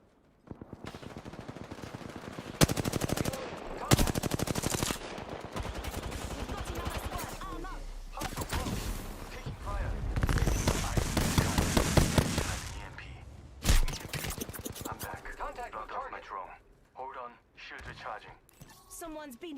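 Video game firefight with rapid bursts of automatic gunfire and single shots coming in loud, irregular clusters, while several players call out to each other throughout.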